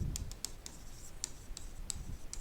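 A teacher writes on a board in a chemistry lesson, with quick, close scratchy strokes and light taps in an uneven rhythm and no speech.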